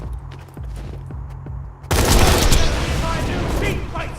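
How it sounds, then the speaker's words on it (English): Gunfire from a Borderlands 2 weapon set to fire a 5-round burst, a sudden loud dense blast of shots erupting after a quieter stretch and sustaining as a roaring barrage. "This will fire a 5-round burst, since it has a matching dull barrel."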